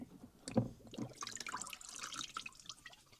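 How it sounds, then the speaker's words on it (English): Tap water runs and drips through a plastic Sigo recorder during rinsing, a soft, irregular trickle with small splashes and one louder knock near the start. "You can play around with the water a bit. Just let it run through from top to bottom a few times."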